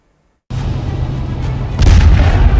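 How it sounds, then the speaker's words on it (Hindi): Explosion from a missile strike in Ukraine, a sudden loud blast that erupts after a moment of silence and rolls on as a deep sustained rumble that swells even heavier toward the end, with no voices. "इस विस्फोट ने, इस वीडियो ने, तबाही की इस तस्वीर ने यूक्रेन जंग की तकदीर बदल दी है"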